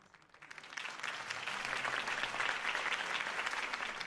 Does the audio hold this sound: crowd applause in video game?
yes